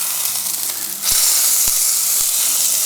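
Greek-style burger patties sizzle on a barbecue grill, a close, steady hiss that swells louder after a second, with a few soft knocks and no talking.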